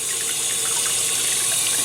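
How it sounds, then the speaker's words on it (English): Cold tap water pours steadily over cooked noodles in a colander, a constant close hiss and splash of running water with no pauses or voices. "I'm transferring my noodles to a colander, and I'm rinsing those noodles off with cold water just to bring them back to a room temperature"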